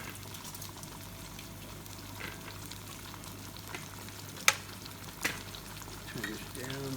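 Spinach koftas sizzle and crackle steadily in hot oil in a pan, with quiet popping, a couple of sharp utensil clinks, and soft talk in the background.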